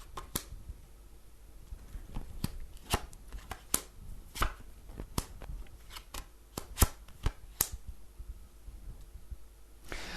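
Tarot cards shuffled and tapped at a fortune-telling table, giving a string of sharp, close clicks and riffles at an irregular rhythm with quiet gaps, no talking.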